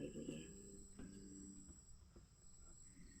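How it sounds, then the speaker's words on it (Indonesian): Crickets chirp on a quiet, late night, a steady high trill running continuously at low volume, with a few soft thumps and faint movement nearby. "bunyinya, suara jangkrik gitu loh, sunyi sepi"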